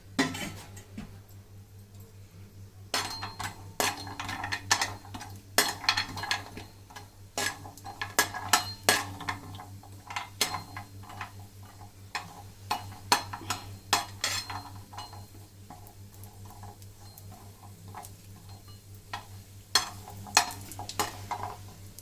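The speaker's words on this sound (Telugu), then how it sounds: "ఇదిగో నెయ్యి హీటెక్కినాక జీడిపప్పు వేపుకోవాలి ముందు" Cashews frying in hot ghee, stirred with a utensil: a steady low sizzle runs throughout beneath clusters of sharp metallic scrapes and clinks against the pan, close and irregular.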